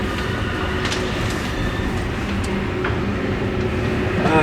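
A train rolling on rails as it switches to another track, steady loud rumble with faint clicks and squeals from the wheels, continuous and close throughout.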